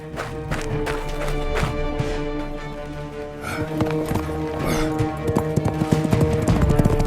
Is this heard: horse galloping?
yes